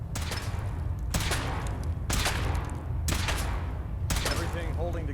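A suit-mounted weapon in Fallout 4 fires several heavy, booming shots in an irregular rhythm, each with a sharp onset and a rumbling decay, loud and close.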